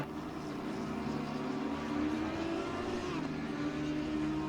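GT3 race cars run through the chicane at Zandvoort in Assetto Corsa Competizione, a steady, loud engine drone with layered harmonic whine and slight pitch shifts, no talking.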